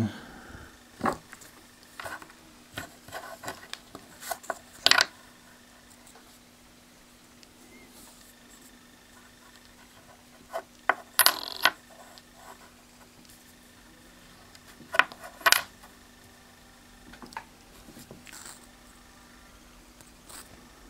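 Danish 20-krone coins from 1995 are handled: scattered brief metallic clicks and taps arrive in small clusters, separated by long quiet gaps.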